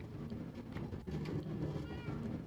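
A black cat in the Minecraft video game meows softly a few times, faint and low in level against background game ambience, with no clear talking over it.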